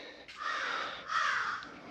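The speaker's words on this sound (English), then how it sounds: "So would the crow outside." A crow caws outside in two long, harsh calls, each lasting most of a second with a brief gap between them, fairly clear and moderately loud with no talking.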